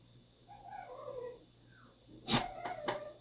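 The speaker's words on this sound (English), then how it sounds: "Oh, is that your dog?" A dog, heard faintly at a distance, gives soft whining, whimpering calls, then a short, sharper bark-like burst and a yelp, with no talk over it.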